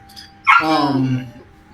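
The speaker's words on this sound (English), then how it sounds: "Sorry, my dog is in the room with me." A pet dog in a room gives a single drawn-out yelping bark that slides down into a whining moan, close and fairly loud, with a faint short sound just before it.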